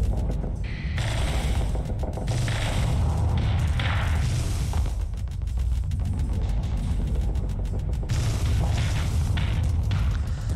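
Artillery fire and explosions in the Starsector space combat game: repeated heavy booms and thuds with mechanical clatter, loud and layered across the whole stretch.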